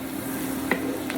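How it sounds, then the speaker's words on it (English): Flour is stirred in a hot frying pan with fat, giving a steady soft sizzle and faint scraping, plus a couple of brief utensil clicks against the pan. "Just keep stirring it around and watch the flour doesn't burn."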